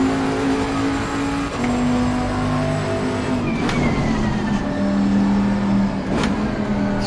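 A race car engine drones loud and steady in Assetto Corsa, with a sustained high-revving tone and brief shifts in pitch as the car keeps racing, close and continuous throughout.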